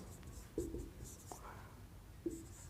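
Pen scratching across paper in a few short, faint strokes, quiet and close, with soft background hiss and no speech.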